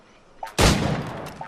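A single loud gunshot blast rings out in the game Assassin's Creed IV: Black Flag, decaying over about a second, with faint small clicks just before and after it.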